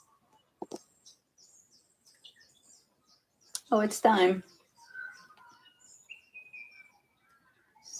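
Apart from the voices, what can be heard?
birds chirping outside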